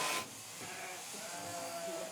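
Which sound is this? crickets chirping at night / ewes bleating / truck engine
ewes bleating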